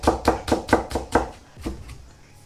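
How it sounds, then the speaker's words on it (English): A knife chops garlic finely on a cutting board with a quick, steady run of about seven crisp knocks. The strokes then slow and fade into a few lighter taps, all close-up with no talking. "So first of all, I'm just gonna chop this off finely."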